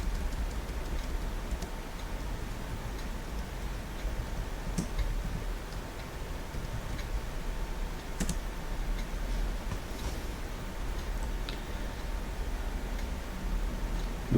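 Steady typing on a computer keyboard, a continuous run of quick light key clicks with a few louder taps, close and moderately loud with no voices.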